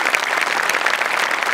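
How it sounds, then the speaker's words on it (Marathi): Studio audience on a Marathi comedy show giving a team a burst of loud, dense applause, sustained clapping filling the room with no voices over it. "एकदा जोरदार टाळ्या टीमसाठी"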